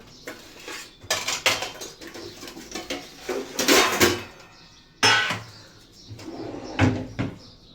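Kitchen utensils clatter while a muskmelon and a pomegranate are cut, with knife strikes, dish knocks and cutlery clinks in irregular bursts, close and fairly loud.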